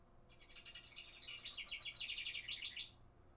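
A bird clock plays a house wren call, a faint, rapid bubbling chirp trill lasting nearly three seconds over soft room noise.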